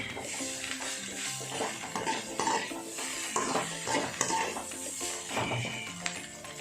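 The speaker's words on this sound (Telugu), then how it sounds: "ఇప్పుడు మళ్ళీ ఎంతసేపు అయితే ఫ్రై చేసుకున్నామో మళ్ళీ అంతేసేపు ఫ్రై చేయాలి" Noodles with crispy chicken and omelette stir-fried in a pan, heard as continuous clattering, scraping and tossing of utensils against metal over a light sizzle for several seconds, close and busy.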